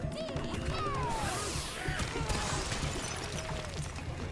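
Donkey Kong smashes objects in a video game: a busy, fairly quiet mix of crashes, thumps and whacks over game effects and sweeping tones, steady throughout.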